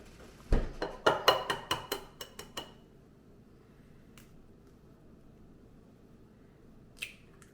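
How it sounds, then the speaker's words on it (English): Eggs cracked against a bowl and dropped into a mixing bowl while making Christmas cookies at home: a quick run of sharp taps and clinks, then quiet with one more faint clink near the end. "And now we're adding the eggs."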